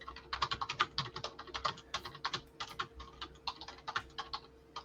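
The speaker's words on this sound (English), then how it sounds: "Here, I'll type this." Someone types on a computer keyboard in quick, irregular bursts of crisp key clicks with short pauses between them. The clicks sound close and fairly quiet over a faint steady hum.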